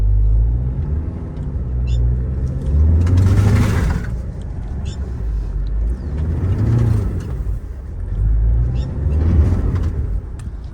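A Tata Safari in rough road mode strains off-road, its engine rumbling and revving in three swelling surges with loud low roar between quieter stretches.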